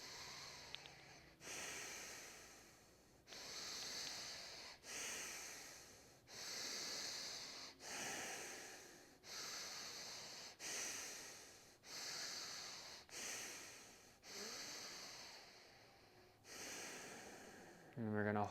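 Long, slow breaths drawn in during a guided breathing exercise, repeated about eight times in a steady rhythm, each a broad airy hiss that swells and fades, close and fairly soft, with no talking over them.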